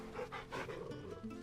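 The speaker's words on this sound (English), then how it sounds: "Pet the dog first." A dog panting steadily while being petted in Final Fantasy XVI, quick rhythmic breaths close up and continuous for a moment with no talk over it.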